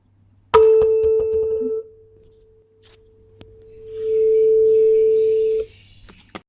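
A tuning fork is struck in a physics class demonstration of resonance, giving a sharp metallic attack, then a pure, steady ringing tone that holds for about five seconds with faint background noise before it cuts off.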